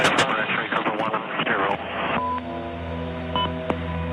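Gunfire during a US special forces combat engagement against the Taliban, a dense rattle of rapid reports mixed with radio chatter and voices, then steadier tonal drone and scattered sharp cracks.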